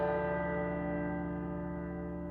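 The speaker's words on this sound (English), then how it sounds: "I kind of wanted it to be like the Toll of the Dead bell, like the church" A tolling church bell like a funeral death knell rings out, one sustained strike with rich layered overtones slowly decaying over a couple of seconds, loud and alone.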